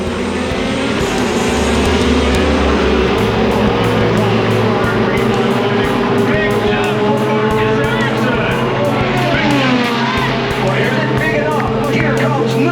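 IndyCar race cars roaring around the track during a one-lap shootout to the checkered flag after a red flag, a dense continuous engine drone with passing cars and crowd noise throughout, loud and unbroken.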